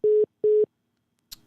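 Phone line tone after a caller hangs up on a live call-in show: two short, identical steady beeps spaced evenly apart, followed by silence and a brief click.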